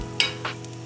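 Dumplings fry in a pan with the lid off, crackling in two quick, close sizzling spurts over a low steady hiss.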